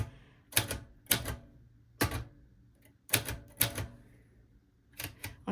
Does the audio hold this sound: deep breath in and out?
no